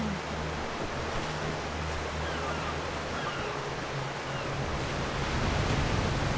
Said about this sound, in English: Oh, what a big-ass ocean!